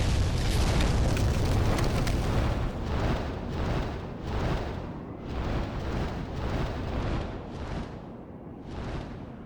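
Dragon attack in the game Demon's Souls: a loud, sustained roaring blast like fiery breath or an eruption, followed by several rolling booming surges that gradually fade, no talking.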